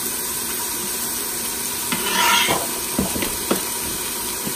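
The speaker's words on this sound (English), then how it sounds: "I am going to add my chili powder in there because I want the chili powder to cook in the oil" Chili powder sizzles as it is stirred into hot oil in an Instant Pot, with a steady loud hiss throughout and a few scraping stir strokes and clinks partway through.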